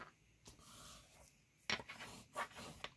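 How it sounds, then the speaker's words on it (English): Glued envelope paper pieces of a flip book being burnished by hand, soft dry rubbing strokes with a few sharper scraping passes, close and quiet. "I'm just going to touch these at the bottom and put them together just like that and burnish this down"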